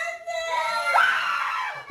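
A daycare caregiver screams close up at babies in a nursery room, one long shrill wavering cry that rises and holds over a noisy room.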